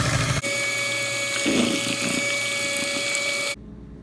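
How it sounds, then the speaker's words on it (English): A blender whirs steadily as it purées a homemade pumpkin pie filling of fresh pumpkin and spices, a continuous motor drone that runs for about three seconds and then cuts off abruptly. "now we've blended our pumpkin mix very well"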